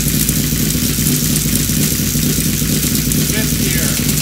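A Honda VFR750 motorcycle engine runs steadily at a loud, close idle, with a constant low rumble and mechanical clatter and no pause throughout.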